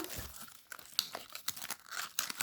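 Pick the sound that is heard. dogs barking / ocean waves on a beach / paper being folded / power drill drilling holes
paper being folded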